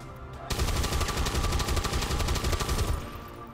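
Close-range cannon machine-gun fire in the XCOM 2 video game: one sustained rapid burst of loud, dense automatic shots lasting about two and a half seconds, cutting off abruptly with no voices.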